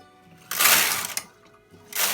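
A bulky knitting machine carriage is pushed across a full row, giving a loud whooshing, clattering sweep that stops briefly and then starts again.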